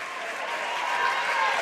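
Cheering and applause from a girls' high school basketball crowd after a made bank shot, a steady, dense wash of clapping and voices filling the gym at close range for under two seconds.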